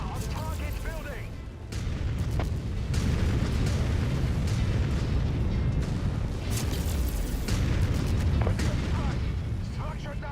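Artillery fire in the video game War of 3039 destroys a building, with heavy booms and crumbling rumbles amid continuous battle noise, loud and close, while voices talk over it.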